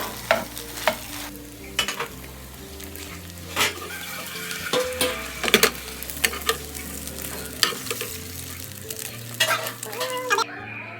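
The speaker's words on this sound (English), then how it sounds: "now I'm just going to scramble 4 of those eggs" Four eggs scrambled with butter and cheese in a pan: a soft continuous sizzle broken by repeated bright scrapes and taps of a utensil against the pan at an uneven pace, close by and with no talking.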